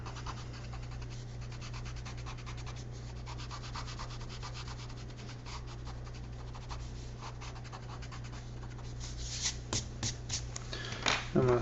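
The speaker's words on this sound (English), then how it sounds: "You can erase marks that you made yourself." An eraser scrubbing pencil graphite off drawing paper in quick, dense back-and-forth strokes, close and fairly quiet over a steady low hum, with a few sharper rubs and scrapes near the end.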